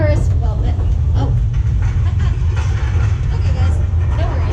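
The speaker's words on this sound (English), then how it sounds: "This is California, right? It'll be a small tremor. It'll stop." An earthquake tremor in California, a heavy continuous low rumble with faint rattling above it, loud and unbroken throughout, with voices speaking over it.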